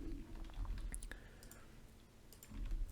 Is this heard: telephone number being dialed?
no